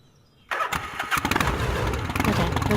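A motorcycle engine in the Gabriel Knight: Blood of the Sacred, Blood of the Damned video game cranks and fires up abruptly after a quiet moment, then settles into a loud, rough, sputtering idle.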